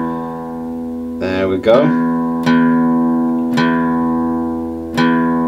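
A guitar's low E string plucked and left ringing, bent below pitch then brought back up, with three more sustained plucks following at steady intervals, close and clear; someone speaks briefly over it.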